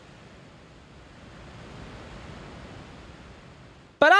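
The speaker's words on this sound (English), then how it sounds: "like this nostalgic ocean ambience as you navigate the region of Musashi" Soft, steady ocean surf ambience from the N64 game Mystical Ninja in the Musashi region, a gentle hissing wash of waves swelling slightly before an abrupt burst of music cuts in at the end.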